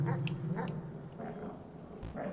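A dog creature in the video game Animal Well, short yipping, whimpering cries repeated in quick bursts, close and moderately loud.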